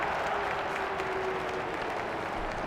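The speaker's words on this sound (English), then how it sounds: "I'm hearing the boos from the crowd." Football crowd at a DFL match booing in a steady, dense roar that stays loud and continuous throughout, with a faint sustained tone running through the middle.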